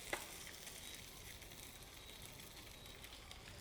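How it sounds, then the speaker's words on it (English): Saltfish frying in an oiled pan for Caribbean fried saltfish, a faint, steady sizzle and crackle running evenly throughout with one brief sharper pop near the start, no talking. "Get your oil in, and we're going to let this fry in your pan"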